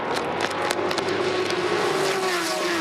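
Race cars roar together at a green-flag restart at Road Atlanta in a 2013 PWC 250 race, a loud sustained engine howl with a rising pitch as the field accelerates.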